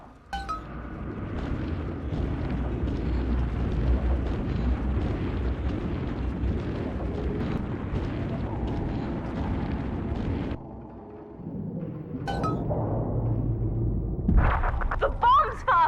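Bombs explode in BioShock 2 in a long, heavy rumbling barrage with clinking debris. It drops off abruptly, then brief cracks and bursts follow, with voices heard over it.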